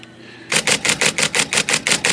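An IBM Selectric typewriter, freshly repaired after a gummy ribbon-arm pivot, types a fast, even burst of about ten loud, crisp mechanical strikes close up after a brief quiet moment.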